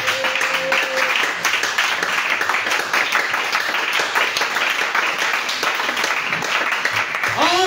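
Steady, loud applause and cheering fills a church as the congregation acclaims Jesus during a worship service, sustained clapping with voices rising throughout.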